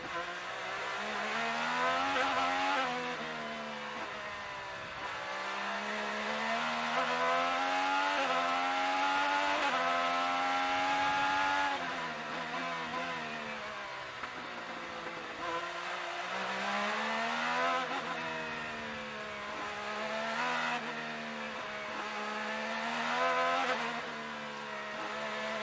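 Pato O'Ward's IndyCar race car is heard from onboard during practice on the Toronto street circuit. The engine is loud and close, revving up through the gears, dropping hard into braking zones, then climbing again over and over.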